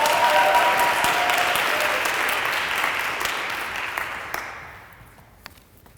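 A school audience at a senior speech claps loudly to welcome the speaker, a dense burst of applause that gradually tapers off and fades to a few scattered claps.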